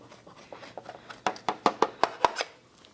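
A knife slices through a tray of baked gingerbread with a run of crisp, sharp cuts, soft at first and then louder and evenly spaced, up close in a quiet kitchen.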